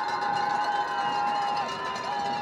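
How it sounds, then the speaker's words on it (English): A home crowd roars steadily at a football game on fourth and one, a dense, distant wall of cheering and noise with a sustained tone running through it. "Home crowd making noise."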